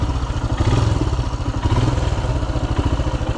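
Royal Enfield Himalayan single-cylinder engine on a Montana singletrack trail, a loud, close, rhythmic thumping idle with clattering pulses, steady throughout and free of speech.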